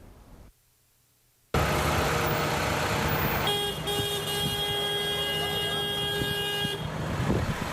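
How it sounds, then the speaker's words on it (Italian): A peaceful protest procession of five tractors and eighty cars by farmers near Padua, from Ospedaletto Euganeo through Este to Vo, with sustained horns honking over engine rumble after a brief quiet stretch, and voices faintly present. "Un corteo pacifico di 5 trattori e 80 auto"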